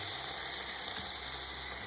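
Shell-on shrimp sear over high heat, giving a loud, continuous sizzle and crackle close by, with no talk.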